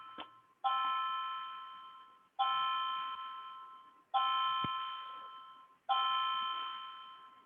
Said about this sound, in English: my clock just really working as a clock. It's chiming every 15 minutes.